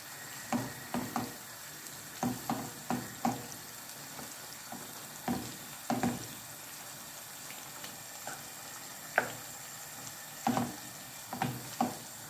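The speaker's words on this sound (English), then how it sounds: "I'm going to cook this off for 2 or 3 minutes, just so the bacon can cook and the mushrooms can cook" Bacon and mushrooms fry in a pan with a soft background sizzle, punctuated by irregular clicks and light scraping knocks of a utensil every second or so, close and fairly quiet.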